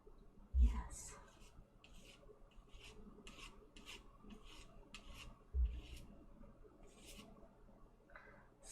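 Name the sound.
fingernails scraping while painting with palette knife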